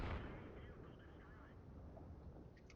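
A tank's main gun fires in a World of Tanks-style online tank battle game, one loud boom at the very start that decays into a low rumble while engine and ambient battlefield noise continue underneath.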